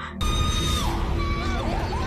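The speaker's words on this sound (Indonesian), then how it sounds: "tiba-tiba dia berteriak karena melihat sesuatu" A woman in a horror film lets out a sudden loud scream after a sharp onset, her voice wavering and sliding over a dense, noisy background for about two seconds.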